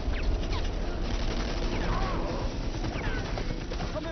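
Gunfire from a Hindi-dubbed action film, Outpost Black Sun: a dense, sustained fusillade of rapid shots in a continuous loud barrage.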